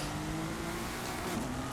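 Porsche engine revving steadily while straining up a hill climb on a Hot Wheels track in Forza Horizon 5, a close, continuous droning whine that holds at high revs throughout.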